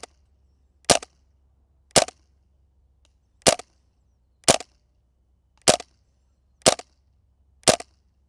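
Airsoft gun firing at a target 150 feet away: eight sharp, dry cracks spaced roughly a second apart, crisp and close, each a single isolated report against a quiet low hum.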